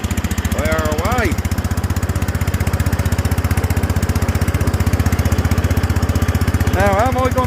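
An old tractor engine runs steadily in third gear while driving around a field, a loud rapid chugging throb throughout, with a voice speaking briefly over it twice.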